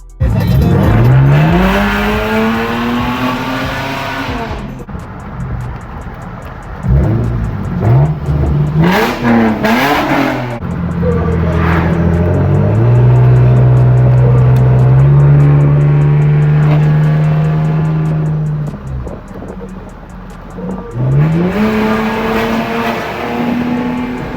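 A Lexus GS accelerating hard through repeated pulls, engine revs climbing steadily through the gears with shifts between, loud and close, one long sustained high-rev run in the middle, no talk.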